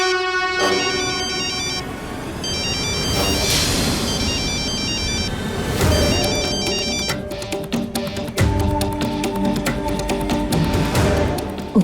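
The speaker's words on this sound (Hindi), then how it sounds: "उदय का फोन।" A phone ringtone rings repeatedly and loudly in a Hindi TV drama scene, its bright electronic melody looping over about twelve seconds with no voices.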